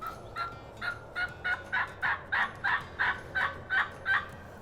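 A wild turkey gobbles around noon in Tennessee, a series of about eleven evenly spaced gobbles at moderate distance with no other voices.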